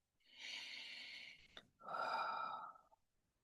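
Slow, deep breathing heard close up: one long airy inhale, a brief pause with a small click, then a fuller, stronger exhale that fades away, with no speech.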